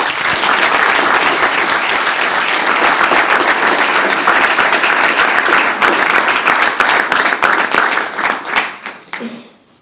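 An audience bursts into sustained, dense applause welcoming NAACP president Ben Jealous to the stage, loud and even for several seconds before the clapping thins and fades out at the end.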